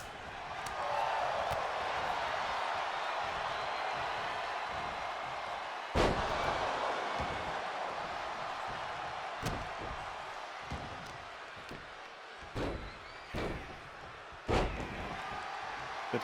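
Wrestling slams in a video game, including a lariat, land as several sharp thuds scattered over a steady crowd-like background roar. Some impacts stand out loudly while others are softer.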